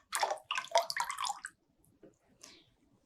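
Water siphoned through a rubber tube from a raised tank into a lower one in a school lab, heard as close bursts of splashing and gurgling pouring that fade to a faint trickle with a few drips.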